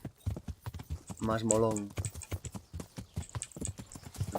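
Horse hooves in Kingdom Come: Deliverance give a steady clip-clop rhythm through the whole stretch, sitting under constant excited talk from a player, with a louder tonal burst in the middle.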